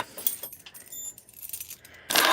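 A bunch of keys jangles and clinks close by as it is picked up before a vehicle is unlocked, light metallic rattles ending in a louder burst of jingling.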